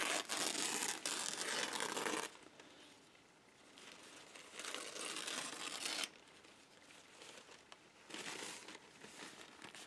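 A paper liner is torn by hand for an organic ragged edge, in several close, bright ripping bursts separated by short quieter pauses, with no talking.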